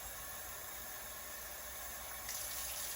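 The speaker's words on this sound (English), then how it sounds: "We're going to get his whole head wet and get this hair clean." Steady running lukewarm water rushes from a tap over a reborn doll's human hair during a wash, a continuous close hiss of flow with no speech.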